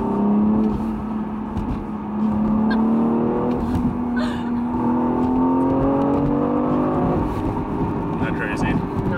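A car accelerates hard while racing a Camaro, its engine note climbing steadily in pitch under wind and road noise, with voices talking over it.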